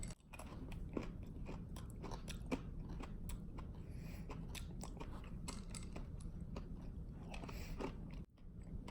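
Someone crunching and chewing candy corn flavored M&Ms, a close, continuous run of crisp bites and mouth-noise crunches that carries on for several seconds before a brief break near the end, no talking.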